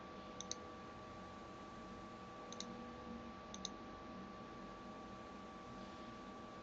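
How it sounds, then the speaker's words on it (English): A few sharp, faint computer mouse clicks land singly and in a quick pair against a quiet, steady background hiss while software downloads. "We click the download button to download the software to your computer."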